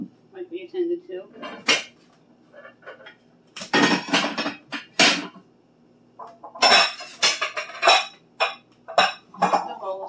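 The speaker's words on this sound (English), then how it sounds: "Put the bowls back." Ceramic bowls clatter and clink as they are stacked back into a kitchen cabinet, several bursts of close, sharp dish knocks separated by brief pauses.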